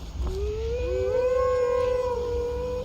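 A wolf howls in Skyrim, one long rising tonal howl with a second voice joining over a low rumbling background, fairly clear and sustained.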